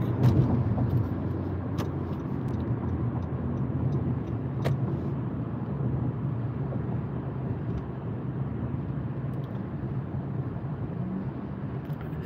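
Steady road traffic heard from inside a car on an evening drive toward the desert near Los Angeles, a continuous low rumble of engine and tyre noise holding at an even level throughout with no talk.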